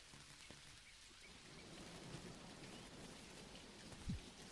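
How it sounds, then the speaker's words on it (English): Steady rain falls throughout a thunderstorm in the video game Dinkum, with a faint low crack of lightning and a brief thump of thunder near the end. "that was the closest my character's ever been to getting struck by lightning"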